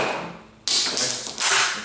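A J. C. Higgins Model 10 rifle's bolt is cycled and a round ejected, giving two sharp, close metallic clacks about a second apart after a brief quiet.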